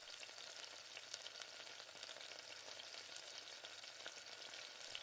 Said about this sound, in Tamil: இப்போ ஒரு தோசை ஊற்றிக்கலாம்.